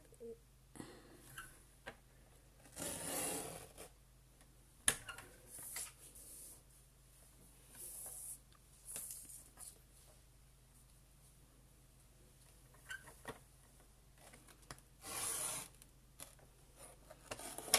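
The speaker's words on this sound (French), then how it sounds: "c'est pas facile de recouper comme ça, juste petit bout par petit bout, parce que c'est là où on se loupe" Scissors cut a paper card piece by piece while making a pull-tab card: quiet, intermittent rasping snips and rustles in short bursts, separated by near-silent pauses.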